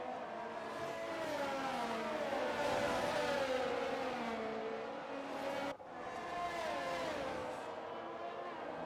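Formula 1 cars scream around the Australian Grand Prix circuit as Fernando Alonso's Alpine battles a Ferrari, their high, wavering engine whine rising and falling with gear changes in a sustained, moderately loud onboard-style roar that briefly cuts out and resumes.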